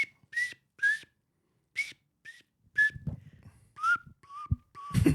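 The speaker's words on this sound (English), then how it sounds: "Here's the recorder." A recorder plays short, shrill, breathy notes in an uneven halting run of about ten toots, with soft background clatter between them.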